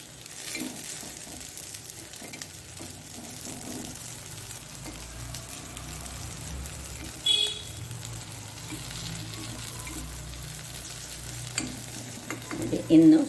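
Cucumber appa batter cooks in a pan over low heat, giving a soft, continuous sizzle with occasional light scraping and stirring noises close by.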